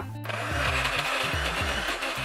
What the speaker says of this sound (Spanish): Ahora vamos a seguir licuando.